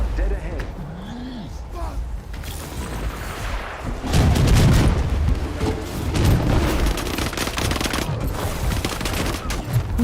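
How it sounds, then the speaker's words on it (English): Rapid bursts of gunfire and booming blasts from the Marvel's Avengers video game build into a dense, loud barrage that runs through most of the stretch, with voices talking over the shooting. "Who's shooting like that?"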